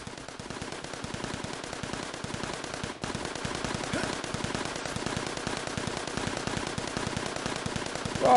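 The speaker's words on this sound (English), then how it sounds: "They've got a flipping Gatling gun." Rapid, continuous Gatling gun fire in the Assassin's Creed Chronicles video game, a dense, loud rattle of shots that runs unbroken through the whole stretch with only a momentary dip near the start.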